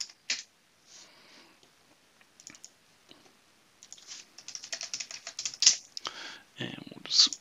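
Quick bursts of keystrokes on a computer keyboard as a file name is typed, the clicks sparse at first and then denser and louder, with no talking.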